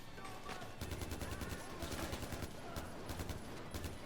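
Rapid automatic gunfire in the video game Far Cry 4, a steady stream of sharp close bursts that rattles on for several seconds, loud and alone.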